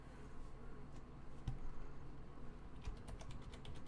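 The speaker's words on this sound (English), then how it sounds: "Use your keyboard to enter text." Keys clatter on a computer keyboard in the Mass Effect Andromeda video game, quiet irregular taps with a few louder clicks over a low background hum.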